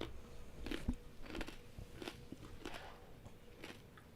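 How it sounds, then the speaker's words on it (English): A person crunches and chews food close to the microphone, with irregular soft bites and crackles and no talking. "Sorry if you can hear me crunching."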